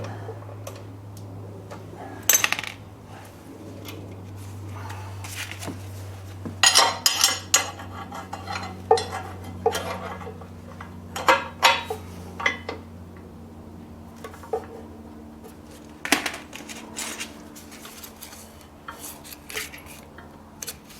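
Metal hex wrench clinking and ratcheting against the knife bolts of a WoodMaxx DC1260 wood chipper, with scattered sharp taps and scrapes over a low steady hum, close by with no talk.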